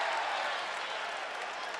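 A basketball arena crowd at a Utah State at New Mexico college game roars steadily in reaction to a call, a dense, loud wash of cheering and applause with a commentator's voice underneath.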